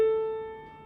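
A single piano note, an A flat, is struck once and rings out alone, fading steadily over under a second.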